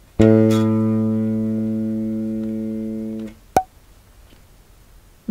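A single bass guitar note, G sharp on the G string, plucked once and left to ring with a steady, slowly fading harmonic tone before it is muted, followed by a short click.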